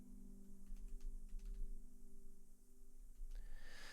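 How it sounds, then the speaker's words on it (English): Steady clicking of keystrokes on a computer keyboard as a chord name is typed into Guitar Pro, a close, even run of light taps over a low electrical hum. "You'll need to manually type this one in."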